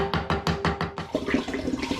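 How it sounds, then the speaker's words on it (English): Thick sugary syrup poured into a demijohn of home-brewed apple cider vinegar, starting with a rapid series of glugging splashes, then settling into a steadier close, gurgling pour. "I'm now pouring the very sugary liquid on top of everything else that's in the demijohn"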